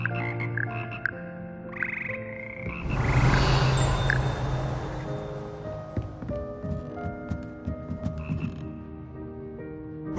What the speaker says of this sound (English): Here perch the slimy yet symphonic frogs